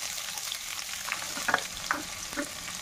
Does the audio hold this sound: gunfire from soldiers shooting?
no